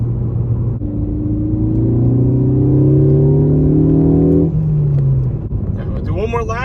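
A Ford Focus ST fitted with a Borla S-Type exhaust pulls hard through the gears, its droning note climbing in pitch before dropping at a shift and building again, heard from inside the car.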